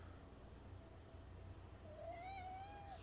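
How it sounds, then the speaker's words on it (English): A cat meows nearby during a fight-night podcast, a single drawn-out, rising-then-falling call near the end over a quiet room hum. "There was a cat nearby"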